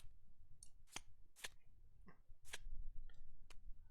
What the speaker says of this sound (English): You flip these over and shuffle them up.